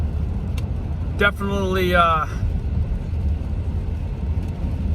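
A lawn care business's truck with its engine running, a low, steady rumble throughout, with a person briefly talking over it.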